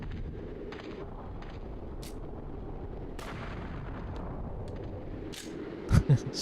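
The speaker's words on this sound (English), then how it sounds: "Okay, we gotta use our gun." A gun firing in the video game Shadow Tower, with a couple of short, heavy blasts close together near the end, following a quiet ambient stretch.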